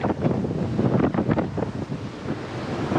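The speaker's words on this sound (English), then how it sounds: "Forecasters were right about the wind." Strong wind blowing on a sailboat under way, a steady gusty roar buffeting the microphone with rushing water and surf underneath, no talk.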